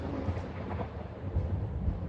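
Rumbling thunderstorm at an airport in the Eurofly flight simulator game, a steady low roar of thunder and rain-like noise with swelling rolls, moderately loud and without speech.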